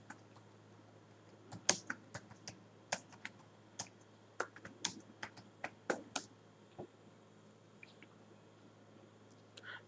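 Fingers type on a computer keyboard in short, irregular bursts of sharp, close clicks, with pauses between keystrokes over a quiet, faint background hum.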